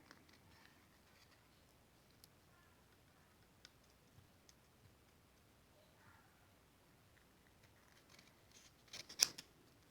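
Scissors cut card stock for a handmade birthday card in faint, sparse snips, with a brief, louder burst of cutting close by near the end.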